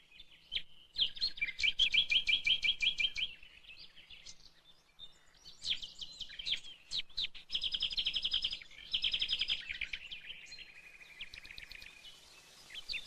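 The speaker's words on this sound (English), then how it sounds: "the nightingale." A nightingale sings in a woodland of old oak, phrases of rich whistles, rapid chirps and trills repeating in bursts with short pauses between, clear and fairly close with no talk.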